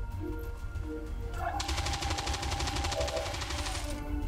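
An Advent turret fires a long, rapid machine-gun burst in XCOM 2, sharp rattling shots beginning after a quiet lead-in and continuing steadily, loud and close, with no speech.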